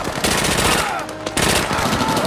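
Rapid gunfire from a war film scene rattles loud and close in dense bursts, with a short break midway before the shooting resumes.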